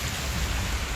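Heavy rain pours down steadily in Chennai, a dense, even hiss of downpour drumming on surfaces, loud and unbroken, with no voices.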